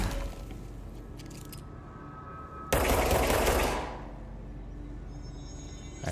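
Burst of rapid gunfire from a shooter game, Control, loud and dense for about a second then fading, with quieter game ambience before and after.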